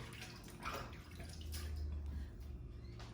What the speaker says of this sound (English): Now the next step is I'm going to wash my hands.